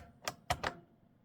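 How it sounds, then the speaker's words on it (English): Three crisp key clicks on a computer keyboard as the letter M is typed, sharp and close in an uneven rhythm against a quiet background, with no voices. "I am typing the letter M"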